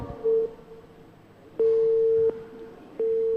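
A telephone busy signal after a call drops during a live mosque radio broadcast: a steady low tone beeping in repeated bursts, clear and close, with a faint hum between the beeps.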